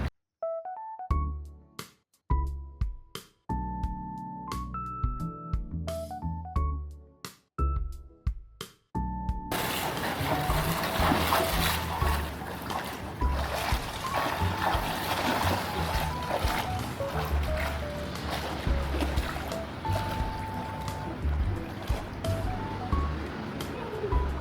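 Water splashes and sloshes continuously as people swim in a clean outdoor pool, a steady near wash of watery noise following a short stretch of plucked-sounding music.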